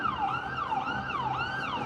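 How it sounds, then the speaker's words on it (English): A very loud ambulance siren wailing at night in Israel, its pitch sweeping up and down in a steady repeating cycle, close and continuous with no talk. "here comes tonight's nightly, very loud ambulance"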